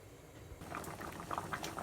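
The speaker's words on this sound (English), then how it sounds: "we're going to let this soup simmer for 30 minutes" Black bean soup made with mirepoix simmering in a pot: a soft bubbling, popping burble that grows slightly busier after the first half second, close and quiet, with no voices.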